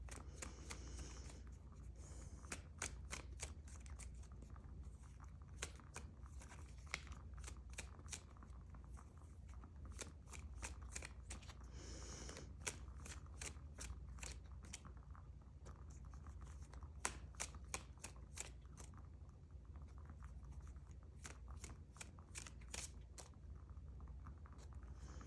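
Tarot cards being shuffled by hand, heard as quiet, close, crisp clicks and riffling ticks that come in uneven clusters across a long stretch with almost no talking.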